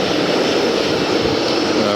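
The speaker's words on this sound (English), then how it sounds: "that's the Northwest Airlines Airbus A320" A Northwest Airlines Airbus A320 jet roars past at Atlanta's airport as a loud, steady broadband engine rush. The noise fills the whole stretch without letting up, and no voices can be made out.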